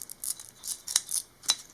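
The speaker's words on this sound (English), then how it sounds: "and then you come in with some scissors" Scissors snipping off excess braided cable sleeve on a sim racing rig, several crisp close snips in quick succession with sharp metallic clicks of the blades.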